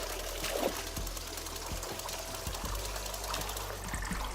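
Water poured in a cozy tea-making game, a continuous soft trickle and splash running steadily for several seconds over a faint background hum, no voices.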